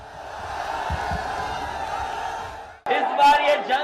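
A large crowd at an Akhilesh Yadav political rally in Meerut, a broad steady roar of many voices, then a sharp cut to louder, closer cheering and shouting.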